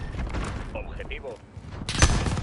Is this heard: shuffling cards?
no